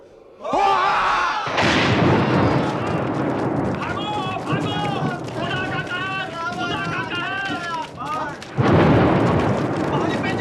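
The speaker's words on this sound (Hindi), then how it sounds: "बादलों की गरज से ना डरो, न भागो" Theatrical thunder from a stage play about the Tower of Babel, with loud rumbling bursts at the start and near the end and voices talking and chanting throughout.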